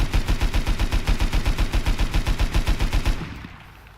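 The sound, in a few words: LR300 assault rifle firing in the video game Rust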